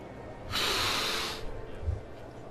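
A Final Fantasy XIV character gives a single sniffing snort, a breathy hiss-like burst of about a second, followed by faint low thumps.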